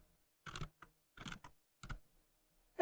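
Someone types on a computer keyboard in three short bursts of quick key clicks with brief pauses between them, followed by one more tap at the end. The typing is close and quiet, with no talking.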